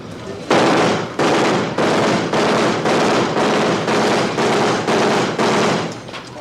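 Machine gun fire rips out in about ten rapid, evenly spaced bursts, each a loud, dense rattle of shots separated by brief gaps, close and dominating throughout.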